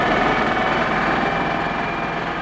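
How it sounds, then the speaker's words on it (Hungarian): An old motorcycle engine runs at a dawn departure near Bhaniawala in India, with a steady, dense rumble holding close and loud for the whole stretch with no voices. "hajnalban motorral indultam tovább, Vikram öreg motorjával"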